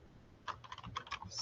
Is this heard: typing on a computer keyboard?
yes